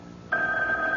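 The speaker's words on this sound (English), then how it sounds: "it's the phone" An old-fashioned telephone bell starts ringing in a radio drama, set late at night in a home, a steady bright sustained ring cutting in suddenly over a quiet background.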